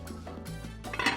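A pot of oxtails in beef stock being stirred, with a utensil clinking and scraping against the pot in a short, close burst over a low background rumble.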